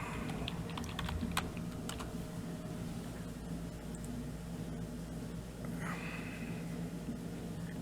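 Computer keyboard keys tapped in quick bursts to type a search, crisp clicks clustered at the start and again near the end over a steady low room hum.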